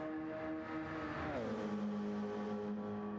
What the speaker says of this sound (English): The Porsche 919.